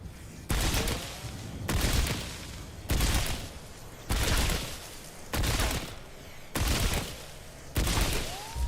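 Repeated bursts of gunfire from a gun in Remnant 2, loud rapid-fire volleys of about a second each separated by short regular pauses.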